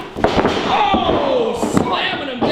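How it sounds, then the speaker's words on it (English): A wrestler is slammed down onto the ring mat during a wrestling match, giving a couple of sharp impact thuds amid loud crowd noise and an announcer's excited commentary. "Oh, slamming him down."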